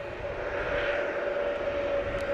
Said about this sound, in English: A couple private jets coming in.